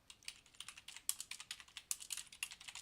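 Rapid, steady clatter of keys on a computer keyboard as a short note is typed, soft and close with even rhythm and no talking.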